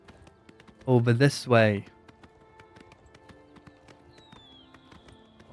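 Horse hooves galloping in Oblivion Remastered, a steady run of soft clip-clop beats throughout, briefly covered by a short burst of a man's speech near the start.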